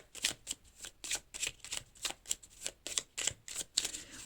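Tarot cards are handled and drawn in quick rhythmic bursts of papery flicks and slides, close and crisp, about a dozen rapid strokes in succession with no talking.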